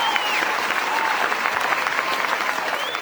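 Audience applause at a speech, a dense, steady clapping from a crowd that stays loud and even throughout.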